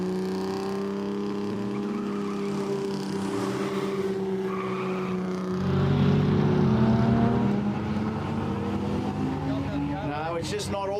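A Ford XB drag car with a Barra engine runs down the strip, its engine rising in a long rising whine before a louder surge, heard from a distance with a commentator's voice over it.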